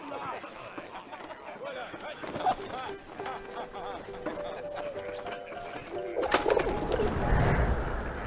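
Pigeon in the video game 11-11 Memories Retold cooing in soft repeated rolling notes over ambient game noise, joined by a clip-clop of hooves and a voice speaking, with a louder rumble near the end.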